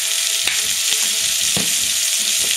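Firecracker shrimp sauté in a hot pan with a steady, close sizzle and occasional sharper crackles, heard alone.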